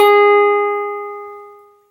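A single clean guitar note, ninth fret of the B string, is plucked and rings out, slowly fading away into silence.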